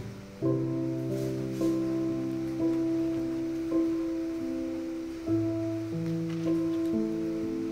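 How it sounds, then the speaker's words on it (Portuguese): Rain patters softly while pages of a Bible are turned, a few brief papery flips standing out against a steady wash of rainfall beneath gentle sustained piano-like music. "Somzinho bom de chuva e de página de Bíblia ao mesmo tempo."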